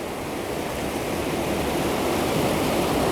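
White water pours over a river weir sill into the weir pool, a steady, loud, broadband rush with no breaks and no voices.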